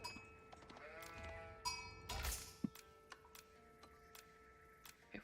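Flock of sheep bleating in a video game, repeated bleats layered over a steady ambient bed with scattered ticking clicks and a brief thumping burst, moderately quiet and without speech.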